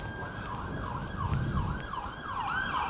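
Police car siren on a Southampton street, a wailing, rising and falling tone repeating in quick cycles over traffic rumble, moderately distant, with no talk.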